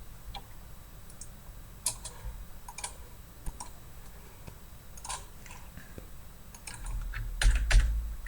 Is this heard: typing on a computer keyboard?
yes